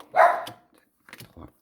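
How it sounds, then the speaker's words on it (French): Small dogs bark in a short burst of yaps near the start, followed by a pause and a few fainter, broken yips and sounds toward the end. "Chut, les chiens."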